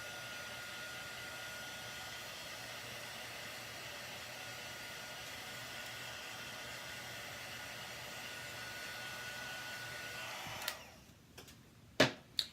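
A hair dryer blows steady broadband air noise, drying paint on a stamped craft layout, running evenly for about ten seconds before cutting off, followed by a few sharp handling clicks.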